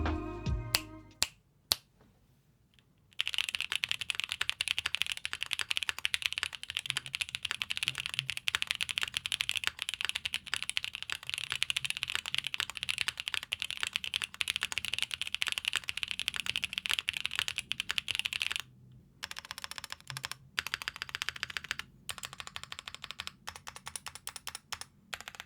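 Dense, continuous typing on a Chosfox Leo80 mechanical keyboard with lubed stabilizers and PET foam, close and crisp clacking with a few sharp isolated key hits at the start and brief pauses near the end, no talking.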